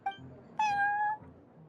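A cat in the Genius Invokation TCG card game, set in the Cat's Tail tavern, lets out one clear, drawn-out meow in the middle, preceded by a short chirp, over a quiet low background hum.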